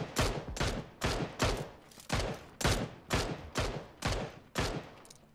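Gunfire in PUBG: a string of about a dozen sharp shots cracks out in a steady rhythm, roughly two per second, each decaying briefly, moderately distant and fairly quiet.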